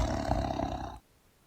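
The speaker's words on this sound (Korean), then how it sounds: "호랑이는 도끼를 던져버리고 나무 위에서 울부짖었다" A tiger gives one loud, sustained roar that lasts about a second and then cuts off abruptly into near silence, used as a sound effect in a narrated Korean folk tale.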